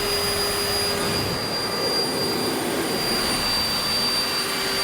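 A powerful air blower drying a freshly cleaned surface gives a steady, loud, jet-like roar that holds without a break throughout.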